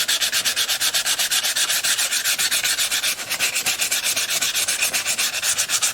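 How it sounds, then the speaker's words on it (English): The braces inside a handmade 12-string dreadnought guitar are sanded with quick, regular back-and-forth strokes, a loud, close, raspy scraping with a steady rhythm and no talk. "I'm going to get all of the braces sanded on the sound hole side"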